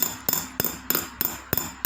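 Small sharp metallic taps from a hammer driving metal toward gemstones during jewelry stone setting, struck at a steady, even pace of about three per second, close and crisp with no talking.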